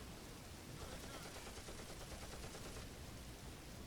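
Gunfire in the Combat Mission WWII strategy game on the Eastern Front, a steady, dense wash of distant small-arms and machine-gun fire crackling continuously throughout, without clear individual shots.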